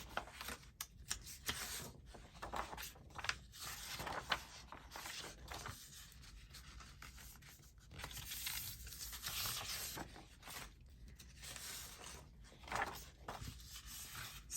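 Paper book cover edges are folded and creased by hand, giving repeated crisp crinkles, scrapes and soft taps in an uneven rhythm, close and moderately quiet, with no talking.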